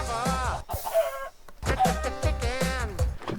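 A Minecraft chicken clucks in a quick run of bright, nasal calls, close and loud, with two brief gaps.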